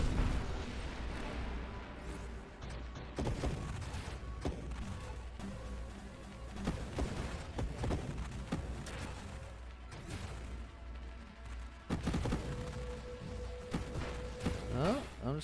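Rapid ship gunfire and repeated blasts from the space shooter game Nova Drift crackle and boom continuously at close range, with bursts of explosions through the clip.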